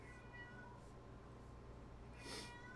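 A pet cat meows faintly in a quiet room, giving a couple of soft, brief cries over a low hum.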